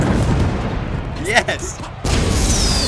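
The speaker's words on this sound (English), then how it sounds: "I love how his fireworks go with his music" Fireworks from a character in a video game crackle and boom in a short burst over game music, with a brief voice reacting before a sharp cut.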